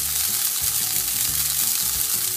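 A handful of chow mein noodles fries in oil in a skillet, a loud, steady hiss and crackle with soft low bumps of stirring underneath, close and continuous.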